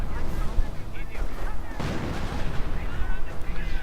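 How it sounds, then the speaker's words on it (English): Booming artillery shells burst in a WWII strategy game battle, a steady run of heavy thuds and rumbling impacts that is loud, dense and continuous from start to finish. "And a bit of artillery here."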